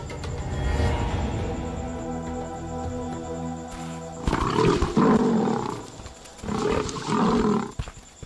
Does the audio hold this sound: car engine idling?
no